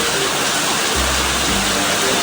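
Steady rain falling in Batam during a water shortage, a dense even hiss of drops throughout, close and loud, with a low rumble briefly rising beneath it partway through.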